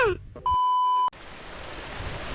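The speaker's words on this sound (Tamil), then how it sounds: "என்னப்பா காலையில இருந்து மழையா வந்துட்டு இருக்கு." Steady rain falling outdoors in a forest near a temple, a dense even hiss that fills the clip after a brief electronic beep tone.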